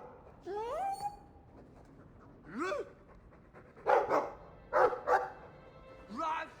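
A dog in a video game whines with rising yelps, then gives a few short, sharp barks in quick pairs, fairly close and alone.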